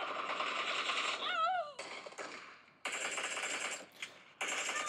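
Rapid bursts of gunfire and explosions from a mobile shooter game played on an Oppo Reno 12 Pro, loud and dense, broken by short gaps and a warbling whistle-like effect, with no talk over it.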